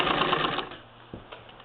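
A 1947 Singer 66-16 sewing machine with a hemmer foot runs in a steady, fast mechanical whir for about half the clip. It then stops, leaving a quiet pause and a couple of soft clicks.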